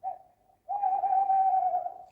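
An animated cartoon owl calls with a short hoot, a pause, then a long sustained hoot held evenly before fading.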